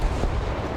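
A single deep, booming bomb explosion in the tank game War Thunder, a short heavy low rumble heard alone.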